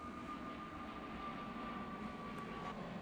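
A low, steady roar from an airplane passing directly overhead fills the whole stretch at an even level, faint and distant-sounding, with no speech.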